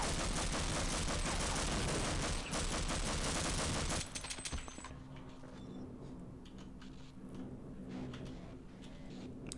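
Dense, rapid gunfire from Half-Life's HECU soldier combat: about four seconds of loud, continuous automatic fire, then sparser single shots and clicks.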